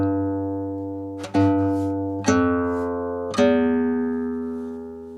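A single sustained guitar note at the 15th fret, plucked three times in slow succession, with a round, mellow, woody, clarinet-like tone that rings and slowly fades between plucks.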